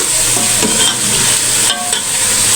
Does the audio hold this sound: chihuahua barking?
no